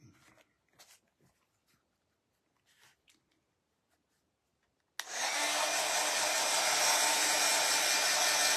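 A hair dryer blasts loudly and steadily on craft glue, switching on abruptly after a few seconds of quiet faint handling sounds and running on without a break.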